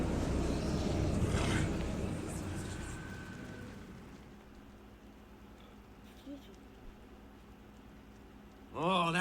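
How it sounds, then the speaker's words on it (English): The dragon Zhaitan roars in Guild Wars 2, a loud, deep rumble that swells at the start and fades over several seconds before quiet ambience and a voice near the end. "That was Zaitan's roar."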